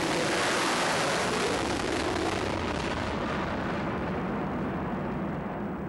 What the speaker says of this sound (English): they're sending rockets up to trace the movements of the ionosphere